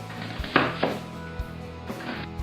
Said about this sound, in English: So here we have one onion, and we want to just chop it.